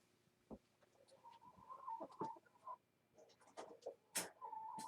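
A chicken being lifted out of its coop gives several short clucks and squawks, with light rustling and handling noise around them and a sharp call near the end.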